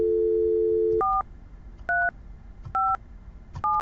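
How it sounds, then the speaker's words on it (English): Phone dialing a CTI route point to self-provision a desk phone on a Cisco call manager: a steady dial tone, then four clean two-pitch keypad tones spaced about a second apart, loud and clear. "dial the CTI route point and automatically provision this phone"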